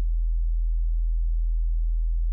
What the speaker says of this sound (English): If I play this low E, we have this sine wave, right?